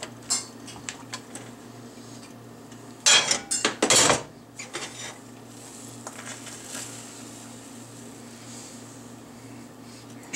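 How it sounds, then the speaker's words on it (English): A lid set down on a pan of Chinese shrimp omelet cooking on the stove: a short cluster of close metallic clanks and clatter, then a quieter scrape, over a steady low hum and faint sizzle. "Put the lid on and let that firm up just for a little bit."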